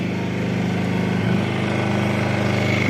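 An inverter electric generator with pure sine technology runs at a steady, even hum from close by, with a smooth engine drone and no talking.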